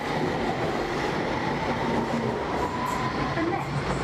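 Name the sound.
London Underground Circle Line train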